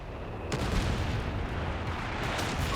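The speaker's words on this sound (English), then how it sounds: "is that a dive bomb?" A dive bomb explodes in the World War II strategy game Company of Heroes 3, a heavy boom at half a second rumbling into a dense, continuous low roar of battle noise.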